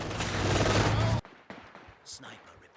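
Heavy machine gun fire in a Company of Heroes 2 battle, a dense loud burst lasting about a second that cuts off abruptly, followed by scattered quieter shots and battle noise.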